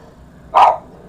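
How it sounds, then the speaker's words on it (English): A single dog's bark bursts out loudly in a quiet room, one short sharp woof lasting about a quarter second with nothing else around it. "it's not one of my videos unless there are dogs involved"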